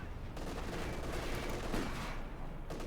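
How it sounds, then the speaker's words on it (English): Base howitzer artillery in Company of Heroes 2 fires amid dense, distant battle gunfire, a steady rattle of shots and booms at moderate distance without clear speech. "Ready to bombard with the base howitzers."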